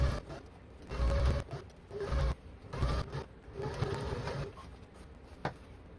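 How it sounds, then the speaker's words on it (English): A sewing machine stitches along a curtain hem in bursts, its motor whirring and needle clattering in short loud runs separated by brief pauses, close by and with no voices. "all I had to do was just sew along the edge of this hem"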